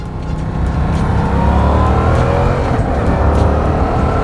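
A motorcycle engine pulls strongly in second gear, a steady loud rising drone with climbing engine tones and close rumble throughout, no voices over it.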